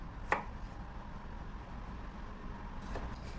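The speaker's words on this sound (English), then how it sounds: "I'm gonna do what, 10 of them or something, quartered" Tiny potatoes being quartered with a knife on a cutting board: one sharp chop early, then a couple of fainter cuts near the end over a steady low background hum.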